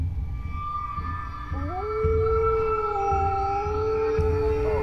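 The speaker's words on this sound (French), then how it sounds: "Ça veut dire qu'il y a plein de loups dans cette forêt" Wolves howl in a taiga forest: long, drawn-out calls rise in pitch and then hold, and several of them overlap over a low, steady background. No one speaks.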